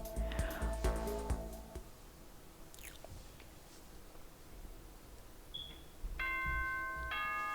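A school announcement chime in the Danganronpa video game sounds as a clear ascending series of bell-like tones near the end, following a stretch of soft ambient game noise and a few earlier chime notes.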